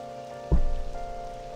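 Steady rain falls on a surface in Persona 5 Royal on a rainy day near a busy bathhouse, a soft continuous patter with one brief louder splash-like burst, no voices.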